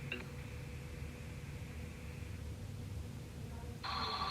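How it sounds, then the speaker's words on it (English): A phone ringing during a conversation gives a brief electronic trill at the start and again at the end, over a steady hum of room noise. "Sorry, I was just getting a phone call."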